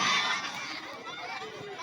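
Football crowd at an inter-village solung final match, roaring and cheering with shouts and children's cries, a loud, dense wash that stays steady throughout.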